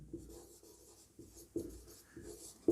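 A pen or chalk writes a vector maths rule for a class 12 lesson, steady scratchy strokes in short bursts with several firmer taps between, close and fairly quiet.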